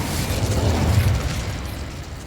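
An Incendio fire spell cast in the video game Hogwarts Legacy lets out a rumbling, bursting whoosh that swells and then fades over a couple of seconds.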